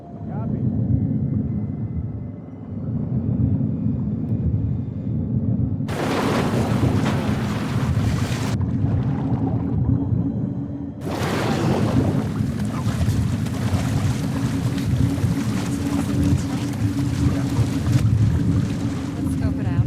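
A boat engine drones steadily throughout in The Last of Us Part II, a low continuous rumble with wind and water wash surging over it in two long loud stretches, and no talk.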